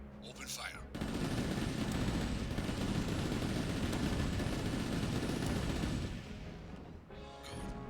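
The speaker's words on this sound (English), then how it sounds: "Now, open fire." Sustained heavy gunfire from mech weapons in the video game Chromehounds, a loud continuous barrage of rapid shots for several seconds, briefly preceded and followed by a voice.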